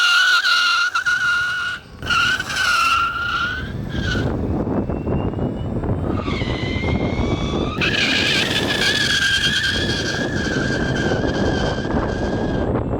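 A Bronco Xtreme 11 electric scooter with 8400 W peak power roars steadily and loudly while being ridden, its high whine rising and falling over a constant dense rumble and rushing wind.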